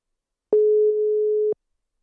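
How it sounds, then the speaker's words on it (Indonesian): A telephone call tone sounds once, a single loud steady beep lasting about a second with clicks at its start and end, surrounded by silence. "gue langsung telepon orangnya aja"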